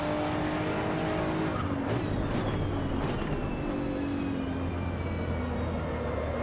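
Race car engine in Assetto Corsa EVO at Donington GP Circuit, droning steadily with rising and falling revs as it brakes and accelerates, tires faintly scrubbing, continuous and close throughout.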